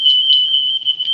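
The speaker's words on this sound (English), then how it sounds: "No, that's just a fire alarm." A fire alarm sounds a loud, continuous high-pitched electronic tone that holds steady throughout with no break, and nobody speaks.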